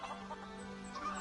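Chickens cluck in an Elder Scrolls video game, brief soft calls over a steady, humming ambient background.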